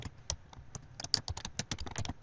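Rapid, uneven clicking of a computer keyboard as text is typed, crisp close keystrokes in quick bursts with brief pauses, no voices.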